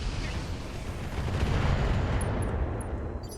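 Heavy weapons fire in a space combat video game, a dense, continuous rumbling barrage of booms and bursts, loud and sustained throughout, with a few faint high electronic blips near the end.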